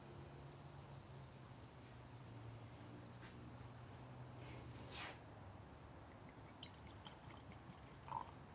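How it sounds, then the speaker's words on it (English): Mijenta Tequila Blanco Maestra poured into a glass, a faint, brief liquid splash against a low, steady room hum. "Let's pour up another pour."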